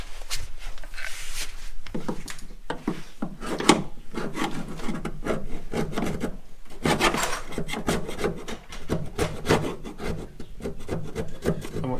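A specially sharpened chisel scrapes steadily at a Citroen Dyane suspension part, making a close, continuous rasping and grating in quick repeated strokes with brief pauses.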